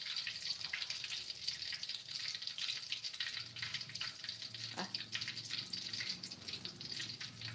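Fish sizzling in hot oil in a home kitchen, a steady close hiss and crackle with scattered pops, fairly quiet, and faint talk in the background.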